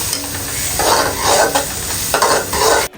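Beans and carrots frying and sizzling in a little oil for chicken fried rice, with steady crackle and stirring bursts swelling and fading, close and fairly loud, no talking.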